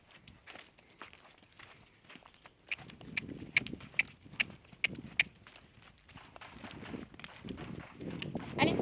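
A mare trots steadily, her hooves clip-clopping in an even rhythm that grows louder and closer, with sharper strikes mid-clip, while a rider clicks their tongue and speaks encouragement over the hoofbeats.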